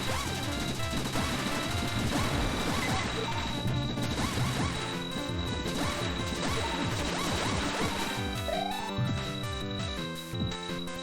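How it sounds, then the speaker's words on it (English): Machines and tech gear are smashed in a video game cutscene, with repeated crashing, thwacking impacts buried in a loud, dense wash of music and noise. "More tech smashing."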